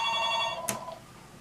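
A telephone rings briefly, a bright electronic tone that stops abruptly with a click, in a quiet room.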